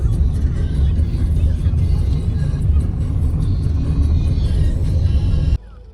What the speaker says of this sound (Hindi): फ्रेंड्स देखो यहाँ पे गाड़ी फंस गई है।